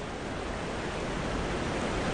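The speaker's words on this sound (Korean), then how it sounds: "곤륜산에서 강물이 거침없이 흘러내려온다." A river rushing down from the Kunlun Mountains, a steady, dense roar of flowing water with no breaks, full and close, no voices.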